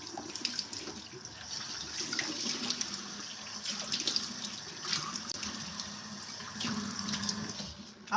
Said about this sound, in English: So I'm just going to wash off the cleanser on my face.